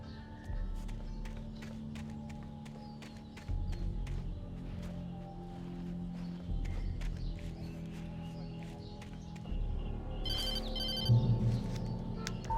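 A telephone rings repeatedly in the Alan Wake video game, a steady electronic ring over a low droning game soundscape with footsteps, continuing unanswered for several seconds.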